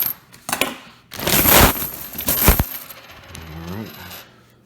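Copper cents pour out of a cracked-open coin roll in a loud, jangling cascade of clinking metal that gives way to a few scattered settling clinks.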